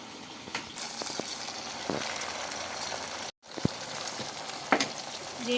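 Cut brinjals frying in hot oil make a continuous bubbling sizzle, broken by a brief silent gap and a few clattering taps of a utensil against the pan.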